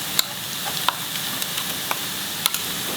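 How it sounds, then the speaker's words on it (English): Ground masala sizzles in a pan for chicken curry over a medium flame, a steady frying hiss punctuated by sharp scrapes and clicks of stirring, close and without talk. "Stir it, fry the masala."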